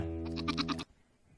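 A goat bleats once in a short wavering, quavering cry, loud and close, then cuts off abruptly into near silence.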